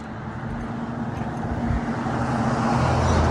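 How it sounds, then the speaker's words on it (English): A truck passes on a nearby road, a low broadband rumble and hum that grows gradually louder over a few seconds with no talking. "Fucking truck."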